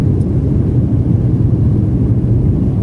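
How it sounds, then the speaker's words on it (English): Loud, steady low rumble of a passenger airliner on takeoff from Cochin bound for Delhi, heard from inside the cabin as a constant engine roar with no speech. "Now our flight is about to take off."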